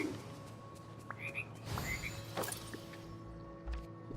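Frogs croak in the Dreamlight Valley video game: a few short, scattered croaks over a steady hum of background game music and ambience, moderately quiet.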